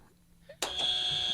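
A game show style buzzer blares during a two-part trivia question round, a sudden loud sustained electronic tone that cuts in after a quiet moment and holds steadily to the end.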